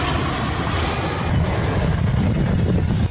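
A special aircraft landing in Ankara, a loud steady jet roar with broad rumbling noise and wind, holding constant and dropping off sharply at the very end.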